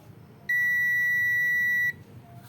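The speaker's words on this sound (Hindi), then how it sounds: "ये देखिए यहाँ पे बीप शो हो रही है" A single steady electronic beep from a tester checking a 48 V 1 A SMPS power supply. The tone is clear and close, lasts about one and a half seconds over quiet background, and has no talk over it.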